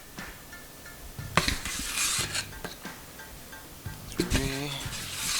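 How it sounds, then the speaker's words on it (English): KINO collagen powder being scooped into a bowl for peanut butter protein bars: several short scrapes and clinks of a scoop against the bowl, loosely spaced and close by, with a voice talking between them. "next we're going to put in the collagen, using 5 scoops of the KINO Collagen"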